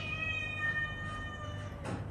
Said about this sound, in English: my cats are getting into it again